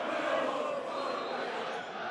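A Millwall football crowd at a home match against Sheffield Wednesday roars in a sustained, dense wash of cheering and shouting, steady throughout with a commentator's voice faintly underneath.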